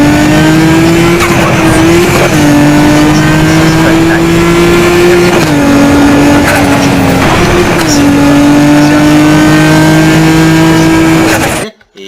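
A Nissan Skyline in Need for Speed Most Wanted 2012 sounds loud and close, its engine note holding steady with repeated gear shifts and turbo flutter, cutting off abruptly at the end.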